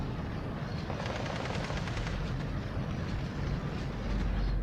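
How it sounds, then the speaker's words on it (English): Machine gun fire in the WWII strategy game Steel Division 2, a steady rattling burst running continuously under dense battle noise and rumbling engines, loud and unbroken throughout. "It's just an MG."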